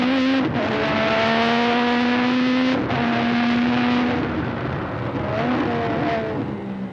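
A 1992 Formula 1 car accelerates hard uphill at Imola, from the Tosa hairpin over the crest toward Piratella. Its loud, close engine screams steadily higher through each gear, with brief dips at every upshift and no voices.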